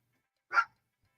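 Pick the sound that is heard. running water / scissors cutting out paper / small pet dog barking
small pet dog barking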